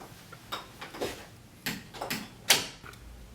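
A door opening indoors, heard as a series of close clicks, knocks and clacks spaced irregularly, with one sharper latch-like snap near the end and no talking.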